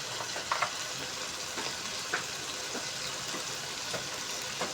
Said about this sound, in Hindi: तो आप देख सकते हैं सारा हमारा जो मटेरियल है वो अच्छे तरीके से फ्राई हो रहा है।